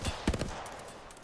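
Gunfire in Apex Legends, a short burst of sharp cracks near the start followed by a faint, fading tail, fairly quiet and distant-sounding with no talk over it.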